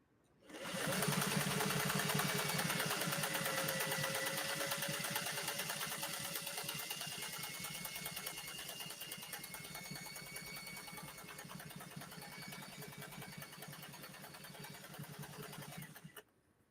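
A 1962 Singer 500A sewing machine stitches a combination pattern, whirring at a steady fast rhythm for about fifteen seconds after starting up and then stopping abruptly; close and alone.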